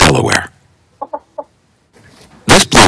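A Delaware blue hen gives three short, clear clucks in a quiet gap, with talking just before and after.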